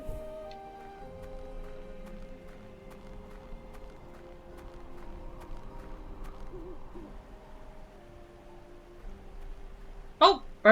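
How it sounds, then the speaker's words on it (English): A bird hoots in a forest in the video game Syberia 2, a short, loud call near the end over quiet, steady game music. "Bird."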